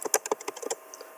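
Quick, irregular keystrokes on a computer keyboard, typing a web address into a browser; a dozen or so light close clicks in an uneven rhythm, with no voice.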